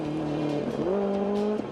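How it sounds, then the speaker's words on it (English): A rally car spins on a forest stage at the Galloway Hills Rally 2008, its engine holding a steady droning pitch that shifts as the revs change, with faint tyre scrubbing and no talk. "Donnie MacDonald is in a spin on his way to second."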